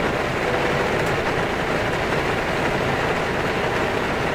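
A Boeing 737-800 engine starting in the X-Plane 11 flight simulator gives a steady, loud, broadband roar with a low rumble that holds even throughout, with no voices.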